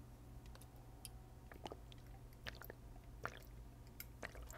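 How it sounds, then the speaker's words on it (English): Someone takes a drink of water near the microphone, with soft wet swallowing, sloshing and small clicks of the mouth over a low steady hum. "after I take this drink of water"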